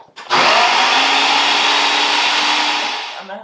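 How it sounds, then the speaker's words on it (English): A food processor blends cooked pumpkin, starting abruptly into a loud, steady high-pitched whir that holds for about three seconds before winding down, with no talk over it. "so my pumpkin is all in the food processor. I'm going to go ahead and blend it up"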